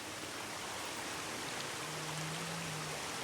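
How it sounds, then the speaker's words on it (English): A waterfall in the video game Senua's Saga: Hellblade II gives a soft, steady broadband rush of falling water, fairly faint and unbroken, with no voices. "Look guys, this is a Chinese waterfall."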